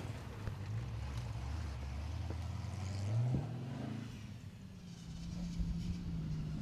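Class 7 rally car engine running at a hillclimb-style stage at Ebbw Vale, heard from a distance, with a rising engine note that climbs mid-clip and then settles into a sustained drone under wind noise.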